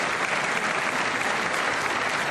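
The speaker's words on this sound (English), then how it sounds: "And just like that, MAGA claps." Steady, dense applause from a large audience at a political speech, sustained evenly for a couple of seconds with no voices standing out.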